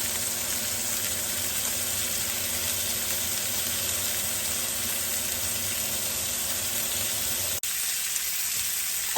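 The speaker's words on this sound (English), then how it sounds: "we're still just waiting for the other side to sear" Beef pot roast sears in a hot pot for a balsamic pot roast, giving a steady, loud sizzle that runs unbroken and close up, with a brief dip near the end.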